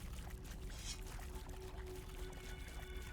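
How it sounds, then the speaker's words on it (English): In the video game Grounded, a water canteen is refilled: a soft, quiet pouring and gurgling of water over about three seconds, alone without speech. "we'll top our water off real quick"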